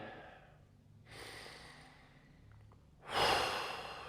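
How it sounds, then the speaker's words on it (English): Slow, deep breaths during a guided forgiveness meditation: a soft inhale, then a long, louder exhale that rises sharply near the end, close to the mic with no talking. "Take a breath with me."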